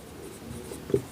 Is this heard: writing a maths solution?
yes